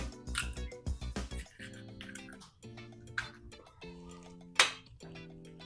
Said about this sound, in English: So I'm going to put the eggs in. These are also room temperature.